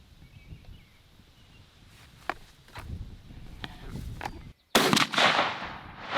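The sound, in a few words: Franchi Affinity 3 shotgun firing Black Cloud 3-inch 4-shot load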